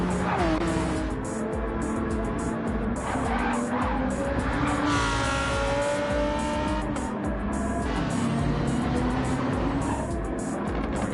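GT3 race cars in the racing game RRC - WEC - GT3 scream past with loud, high engine whines and repeated tire squeals and skids, the pitch rising and falling as the cars jostle closely around the track.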